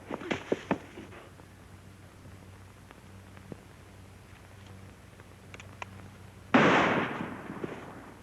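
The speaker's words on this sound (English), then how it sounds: "That shot came from over there." A single loud gunshot cracks out in a 1940s western, a sharp broadband burst followed by a decaying echo, after several fainter pops and a low steady hum in the background.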